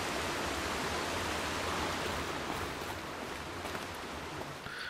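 Steady rushing water ambience from the game Horizon Zero Dawn, a broad continuous stream-like wash at even level throughout, with no other sounds standing out.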